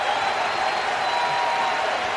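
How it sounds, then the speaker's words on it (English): A baseball crowd at Nationals Park gives Ryan Zimmerman a standing ovation in the Washington Nationals' season finale, a steady wash of applause and cheering that holds at an even level throughout. "Their entire team is out on the edge of the grass, giving Zimmerman an ovation."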